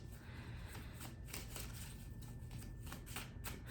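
Oracle cards being shuffled in a steady, continuous riffle, soft and close, with no talking over it.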